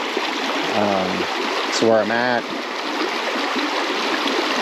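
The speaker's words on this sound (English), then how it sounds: "you can have a fun time fishing these little clear creeks like this" Badger Creek, a small, clear mountain creek near Bonnie's Crossing Campground, gives off a steady, close rushing hiss throughout, with a man's short remark over it.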